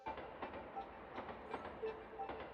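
A train runs through a video game setting at a station in Natsu Flats, a steady, faint rumble with rhythmic clickety-clack beats on the rails and no voices.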